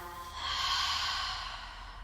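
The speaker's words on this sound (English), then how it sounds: "One more like that, big breath in, fill up. And release your breath." A single deep breath is let out slowly through the mouth during a yoga flow, a soft airy exhale that swells and fades over about two seconds, close and quiet, with no talking.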